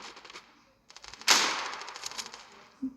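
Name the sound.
Kobra 8 firecracker exploding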